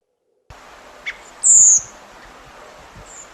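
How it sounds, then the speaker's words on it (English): Redwing calls in winter, a soft nasal gack note followed by a thin high seep, faint and close against a quiet outdoor background. "you're going to hear this more nasal gack note, and then you'll hear the seep"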